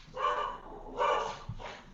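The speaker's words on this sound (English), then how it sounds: "Dog found dinner. Not sure what he's barking at." A dog gives two or three sharp barks at close range, separated by short pauses, over a low background hum.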